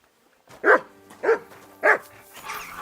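A dog in Kingdom Come Deliverance 2 gives three evenly spaced, fairly loud barks, followed by a softer whining yelp.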